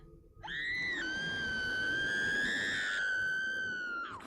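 Barbara Finch screams in the video game What Remains of Edith Finch, a single long, shrill, sustained cry holding for about four seconds with a slight wavering pitch before cutting off.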